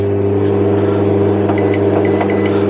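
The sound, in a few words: microwave oven restarted in a camper van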